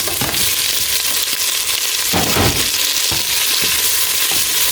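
Shelled scampi going into a hot frying pan, a crackling sizzle throughout with a louder burst of spitting as they land, close and without talk.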